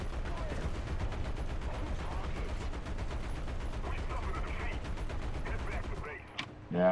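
Sustained rapid gunfire in a space-combat video game, a continuous loud rattling burst that fades out near the end with a brief mechanical clunk.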